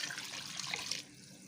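Water poured into a pot of beef paya, a close rushing splash that runs steadily for about a second and then stops, leaving quiet.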